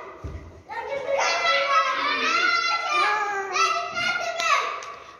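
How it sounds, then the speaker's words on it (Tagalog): Many children play noisily together indoors at a house, their high shrieking and chattering voices overlapping continuously at close range. "So ang ingay-ingay ng mga bata dahil nagsama-sama sila"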